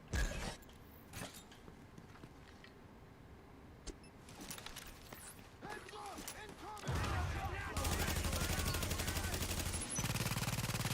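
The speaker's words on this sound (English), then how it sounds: "Light him up, turret." Automated turret in The Division 2 opens up with rapid, sustained gunfire that grows dense and loud toward the end, following quieter scattered shots, clanks and game effects.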